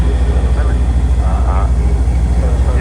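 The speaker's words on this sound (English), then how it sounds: "Apache, two of them lining up on the runway with the Wildcat." Two Apache helicopters with a Wildcat spool up on the runway at the RIAT air show at RAF Fairford, a loud steady rotor and engine roar close by, with a voice talking over it.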